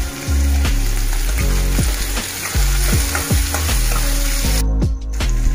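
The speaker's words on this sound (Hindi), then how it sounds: "तापर आमे टमाटो को दे दबा। टमाटो को मध्य भल भाव रे टिके भाजी नबा।" Tomatoes frying with onions and green chilli in a pan keep up a continuous loud sizzle, while a spatula scrapes the pan in regular stirring strokes roughly twice a second.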